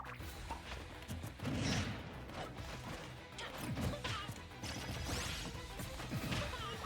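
Forward smash attacks in a Super Smash Bros. game, a dense string of crashing impacts and whooshes over constant game noise, with no talk.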